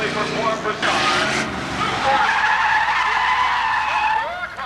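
Several cars skid and squeal their tires while crisscrossing past each other in a stunt show at Seekonk Speedway, loud sustained screeching with engine roar, layered under a public-address announcer's voice.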